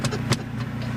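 A warmed-up motorcycle engine idles close by with a steady low rumble, broken by a few brief sharper bursts.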